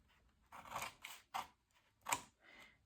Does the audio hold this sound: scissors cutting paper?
yes